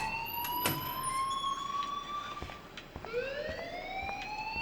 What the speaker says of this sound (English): go turn off that alarm